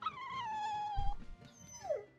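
A dog in the game Tales of Berseria gives a long, high whine that falls away, then a short yelping whimper, close and fairly quiet with a soft thump between.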